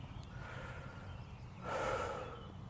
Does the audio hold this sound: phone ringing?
no